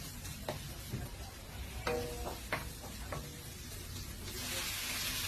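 Ginger and garlic sizzle steadily in a hot pan, with a few clinks of a utensil stirring them; a constant close frying hiss with no talk.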